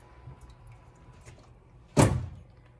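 IKEA greenhouse cabinet door swung shut, a single solid thunk after a quiet stretch of faint handling noises, close and fairly loud.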